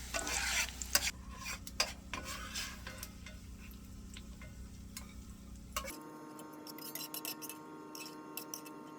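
Garden greens hit hot bacon grease in a pan, giving a steady sizzle with scraping stir strokes and small clicks, loud at first and then settling to a quieter, even fry.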